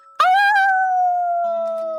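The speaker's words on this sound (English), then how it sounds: "Give me your Wolf Howl." A loud, sustained wolf howl from the Wolf Howl skill in Etrian Odyssey HD, one long clean tone sliding slowly downward, with faint game tones entering near the end.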